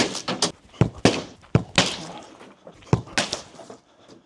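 A football smashing into a fence panel, producing a series of sharp, hollow thuds and cracking impacts at irregular intervals, some followed by brief splintering rattles, fairly close.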